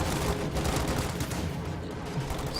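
Dense, continuous automatic gunfire from Thompson submachine guns in the WWII strategy game Company of Heroes 2, a steady rattling barrage with layered shots and battle noise throughout, no talk.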